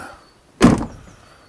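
Passenger door of a Land Rover Defender 90 300TDi hardtop, a single sharp clunk of the latch and door opening after a quiet pause, close and fairly loud.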